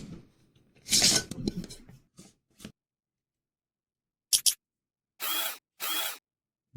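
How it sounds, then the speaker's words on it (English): A Fantic E1 Max electric screwdriver whirs in three short, close bursts after some quiet handling and rustling. "handy dandy electric screwdriver. This is the Fantic E1 Max."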